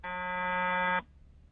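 A loud electronic alarm buzzer sounds as one steady, harmonic-rich tone for about a second, then cuts off sharply, leaving quiet room noise.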